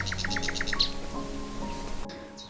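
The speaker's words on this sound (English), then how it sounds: "All those birds." Small birds chirp in a quick repeated series of bright tweets near the start, then fainter calls continue over a low steady background hum at an outdoor bottle dump.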